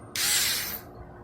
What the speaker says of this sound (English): these 4-volt OEM tools, little pistol drills